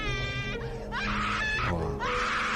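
A woman screams and wails in long, strained, rising cries, a staged sound effect in a horror story, loud and close with brief breaks between the outbursts and no speech.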